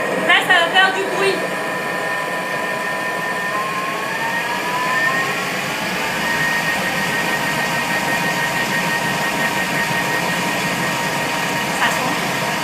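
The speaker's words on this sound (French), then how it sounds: "Et donc là, on va mixer tout ça." A Thermomix blends carrot and coconut milk soup, a steady loud motor whir that holds for the whole stretch, with a brief clatter at the start.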